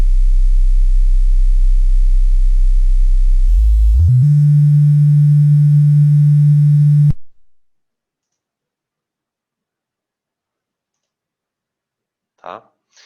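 A steady, loud low-frequency sine tone from a sound demonstration hums for about four seconds, steps up to a slightly higher pure tone for three more, then cuts off into silence broken only by a faint brief noise near the end.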